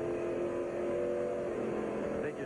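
A NASCAR race car, the No. 5 in a 2000 Busch Series race, roars past at speed. Its loud, steady engine drone shifts in pitch as it goes by over a busy track background.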